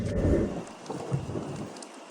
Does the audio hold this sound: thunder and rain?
yes